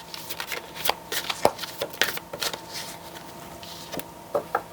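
Oracle cards being shuffled during a card reading, producing a close series of quick riffling flicks and soft slaps in irregular bursts, fairly quiet, with pauses between handfuls.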